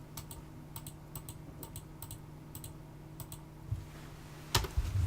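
Fast, light keystrokes on a wireless computer keyboard come in small bursts of clicks against a quiet room hum, ending in a few heavier taps.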